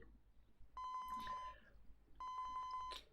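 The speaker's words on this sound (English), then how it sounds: "Osawa's cell phone rang." A cell phone rings in the visual novel game 428: Shibuya Scramble, two clear electronic ring bursts with steady harmonic tones, each about three-quarters of a second long, separated by a short pause.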